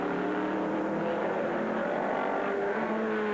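Sports prototype race cars lap the circuit during an American Le Mans Series race, their engines droning loudly with shifting whining pitches as several cars pass in close succession.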